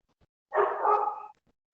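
A single dog bark, drawn out and muffled, heard over a microphone during an online council meeting, standing alone in near silence.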